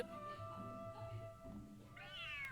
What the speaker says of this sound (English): The cat is hissing at me, Miss Rosaria.